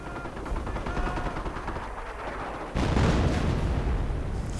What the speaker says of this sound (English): Will there be a shot from this 105mm howitzer?